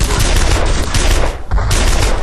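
An 88 gun fires in a video game, part of a dense barrage of loud gunfire and explosive bursts that carries on nearly without a gap, with no speech.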